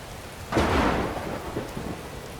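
Thunderstorm at night in the game Morrowind: a sudden loud thunder crash rolls in after a quiet start, then a steady wash of rain continues with low rumbles beneath.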